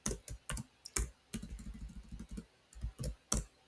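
Rapid keystrokes on a computer keyboard while typing code, close and clear, with bursts of clicks and a short run of quick taps, no talking.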